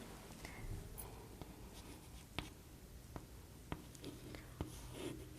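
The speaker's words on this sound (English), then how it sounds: "First, we have to draw" A pencil scratches across paper along a scale while drawing a straight ray, soft and close, with a few light taps as the pencil and ruler touch down.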